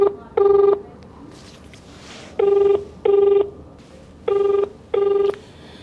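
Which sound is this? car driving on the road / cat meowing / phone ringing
phone ringing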